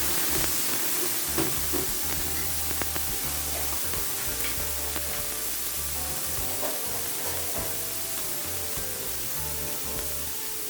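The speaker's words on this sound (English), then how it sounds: "I'll be adding some chopped tomatoes" Chopped tomatoes sizzle in a frying pan with pimento seeds while Jamaican pan-seared fish is prepared, giving a steady, close frying hiss with small crackles and occasional utensil clinks, no talking.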